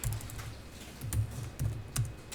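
A few distinct keystrokes on a computer keyboard, spaced apart, include presses of the Tab key during accounting software data entry. The clicks are close, fairly quiet, and play alone.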